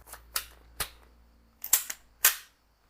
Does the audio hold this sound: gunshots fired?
yes